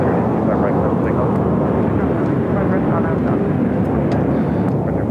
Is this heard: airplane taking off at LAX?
yes